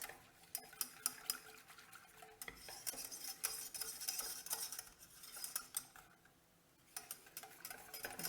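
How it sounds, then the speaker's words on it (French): A thickening almond-cake mixture stirred in a pan over the heat gives repeated quiet scraping and clinking strokes of a utensil, in irregular bursts with short pauses, fairly faint. "on va allumer le feu et on va remuer jusqu'à ce que ça épaississe"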